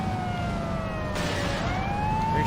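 An ambulance siren wails continuously in the Saints Row video game, its steady rising and falling tones loud and close over a dense rumble of game engine noise, with no voices.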